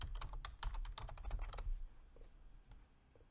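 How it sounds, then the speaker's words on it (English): Quick bursts of keystrokes clatter on a computer keyboard, close and crisp, with a run of rapid taps that trails off into a few scattered presses. "And here I'm going to type v3."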